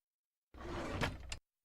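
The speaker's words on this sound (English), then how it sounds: "just slide out that drawer there." A drawer slides out with a short, rough scraping rumble lasting under a second, ending in a brief knock, close and fairly loud against silence.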